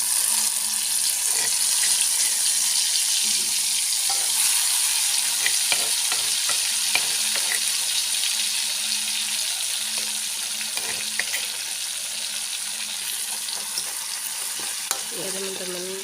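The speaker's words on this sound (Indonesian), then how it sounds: "saya oseng-oseng dulu sampai dia agak layu" Spices stir-fried in a pan for nasi goreng tiwul, after salted fish: a loud, continuous close sizzle with scraping stirring strokes throughout, no voices.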